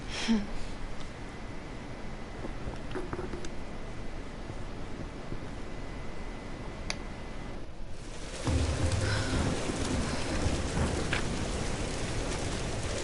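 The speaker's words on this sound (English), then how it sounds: "We're getting closer to the storm." Rain pours steadily over a storm scene in the Tomb Raider video game, a constant hiss that swells louder partway through, joined by a low rumbling surge like distant thunder.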